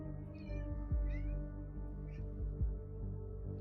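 A cat meows a few times in short, high calls that sit above a steady, loud low drone, with no talking.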